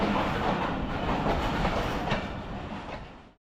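Passenger train running between Lahore and Jhelum, a steady loud rumble of wheels and carriages with clattering rail rhythm throughout, fading out at the end.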